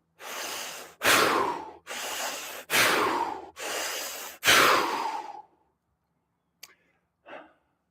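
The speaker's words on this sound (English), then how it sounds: "3 big breaths in and out the mouth." Six loud, forceful breaths alternate in and out through the mouth in a steady rhythm during a movement and breathing exercise, each long and airy, followed by a short silence and two faint brief sniffs or small breaths.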